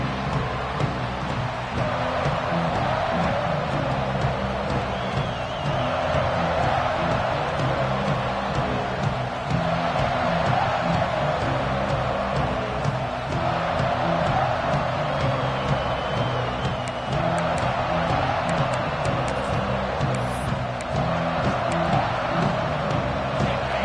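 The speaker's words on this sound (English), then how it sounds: "This crowd trying to show them what it's going to be like all day in this house." A football stadium crowd at an Ohio State game against Michigan roars in a broad, steady wash of noise that holds loud and unbroken throughout, with no clear voices standing out.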